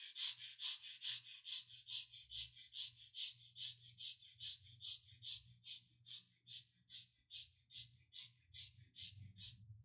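Gentle, short breaths drawn into the rib cage during a quiet meditation, a steady regular series of soft airy puffs, close and faint over a low background hum, with no talking.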